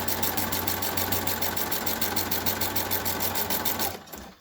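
A sewing machine runs steadily while stitching a chair cushion over pins, giving a fast, even mechanical chatter close up for about four seconds before stopping abruptly.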